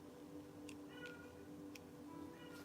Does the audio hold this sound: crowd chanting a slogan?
no